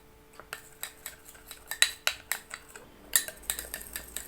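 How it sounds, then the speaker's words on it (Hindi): A spoon mixes Colgate toothpaste into squeezed ginger in a small bowl, giving a series of sharp metallic clinks and scrapes at an uneven, roughly steady pace, close and quiet, with no talking. "मैंने पेस्ट को अदरक के अंदर अच्छी तरीके से मिक्स कर दिया है"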